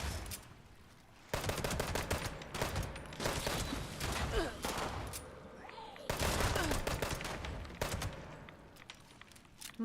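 Gunfire in Fallout 76: dense, rapid automatic bursts run almost without pause. A short gap splits the two long volleys, all close and loud.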